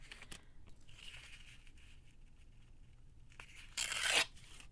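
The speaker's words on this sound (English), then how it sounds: "we're gonna have to rip a little off the bottom too" A book page torn by hand for a pocket journal, with soft faint rustling and then one loud, close rip lasting under a second near the end.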